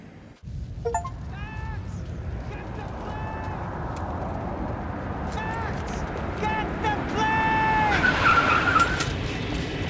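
Car chase in the video game Max Payne 3, with a continuous engine drone and several sharp tire squeals and skids rising over it, loudest near the end, while characters shout over the action.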